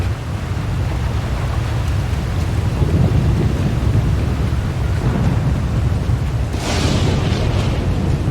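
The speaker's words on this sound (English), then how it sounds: "The lightning strikes can be deadly out here." Thunder from lightning strikes during a storm in a video game: a continuous heavy rumbling roar with rain-like hiss, swelling into a sharper crackling burst near the end, with no voices.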